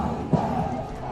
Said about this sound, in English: Crowd getting back into it.